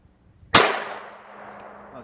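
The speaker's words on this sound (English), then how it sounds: "we're gonna fire 5 shots of 22 long rifle out of this North American Arms revolver into that barrel over there" A single .22 Long Rifle shot from a North American Arms revolver strikes a barrel, a sharp loud crack with a metallic clang that rings and fades.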